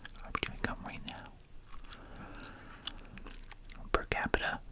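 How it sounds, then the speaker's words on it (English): Gum being chewed close to the mic in soft, wet, sticky smacks with whispered speech around it, a quiet ASMR-style setting. "I'm chewing gum right now."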